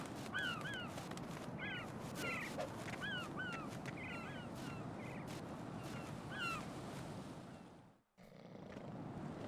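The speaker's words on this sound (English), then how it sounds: "As long as the birds don't peck at my hands" Crows cawing in Metal Gear Solid 2, a run of repeated short caws over a steady noisy background, fairly faint, fading out before a brief dropout.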